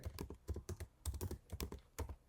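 Light, quick keystrokes on a Mac keyboard come in short bursts of clicks while a Spotlight search is typed, close and clear with no talking.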